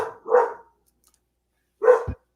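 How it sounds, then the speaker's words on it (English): Ellie the dog gives two sharp, close barks separated by about a second and a half of near silence, the second bark ending in a low thump. "And Ellie is the best dog."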